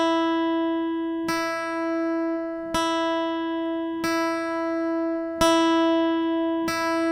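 Two adjacent guitar strings, the B and high E, tuned by ear at the 5th fret, ring out as six picked notes in a steady alternating pattern, each sustaining and overlapping the next, with no talking.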